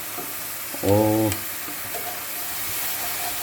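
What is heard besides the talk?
keema and green chillies being stirred while frying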